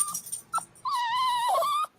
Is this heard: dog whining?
yes